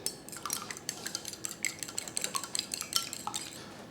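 A fork or whisk clinks rapidly against a bowl while one egg is beaten, a quick irregular clatter of light metallic ticks, fairly close and with no talking.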